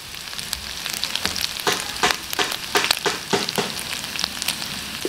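Pork with crushed black pepper and curry being stirred and frying in a pan for Bicol Express curry, with close sizzling and irregular scraping, clattering stir strokes, no talking.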